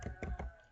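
Short burst of computer keyboard typing entering a network switch configuration command, several quick close key taps in a soft, quiet run.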